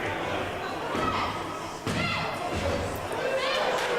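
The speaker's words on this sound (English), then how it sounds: "Bucky probably seeing stars at this point as he's power slammed down to the ground." A wrestler power slammed onto the ring mat in an independent wrestling match, a heavy thud heard under loud commentary and crowd noise.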